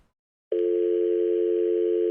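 Telephone dial tone during a call, a steady continuous hum that starts abruptly after a short silence and holds evenly, clear and loud, with no voices.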